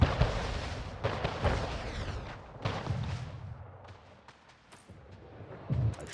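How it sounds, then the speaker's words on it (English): Naval combat in Anno 1800 ends with a ship destroyed: a rolling sequence of booming cannon-like blasts and explosions, several loud hits early, then fading to quieter scattered bursts with one final thump. "A ship is destroyed."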